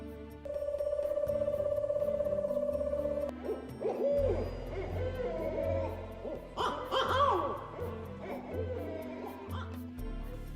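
An owl held by villagers hoots close by: first a long, steady, sustained tone, then a run of shorter, irregular calls.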